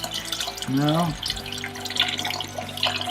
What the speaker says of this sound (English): it's just the boiler that I'm filling the water into